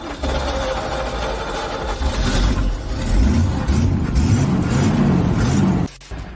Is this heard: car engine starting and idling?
yes